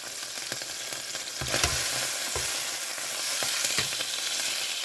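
Cube steaks fry in a pan with a constant bright sizzle and crackle, punctuated by a few louder spatters and scraping stirs. No one speaks.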